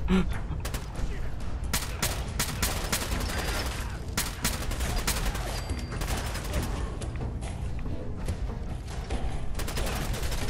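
Sustained gunfire in the Fallout 4 Nuka World DLC, with dense bursts of automatic fire and scattered single shots running throughout at a steady loud level, mixed with distant booms and game ambience.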